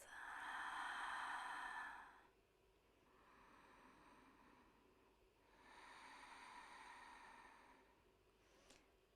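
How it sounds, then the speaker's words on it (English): Slow, deliberate breaths during a Pilates session, a long airy inhale through the nose followed by a softer exhale through the mouth, then another drawn-out inhale, close and quiet with no speech. "Breathing in through your nose,"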